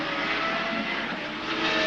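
A 1980s IndyCar running on methanol fuel roars past with a continuous engine drone, steady and fairly loud while the field climbs a hill on track, without commentary over it.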